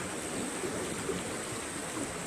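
A river running west toward a larger river flows steadily, giving an even, continuous rush of water with no breaks across the stretch.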